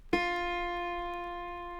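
A single pluck of an autoharp's middle-octave D sharp string, a clear close tone with a sharp attack that rings on steadily with a slow decay, alone and without voices.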